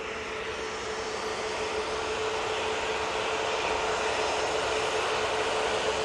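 Steady, loud roar of a jet airliner engine at Manchester Airport, a continuous broadband rumble and whine that holds unchanged with no voices.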